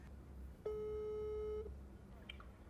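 A single steady telephone tone sounds for about one second on speakerphone while calling a friend named Toto, loud and clear against quiet room noise.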